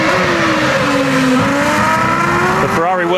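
A 2007 Ferrari Formula 1 car at the Spanish Grand Prix in Barcelona howls loud and continuous, its high engine note rising and falling through gear changes with a clear shift near the end, and a commentator talks over it.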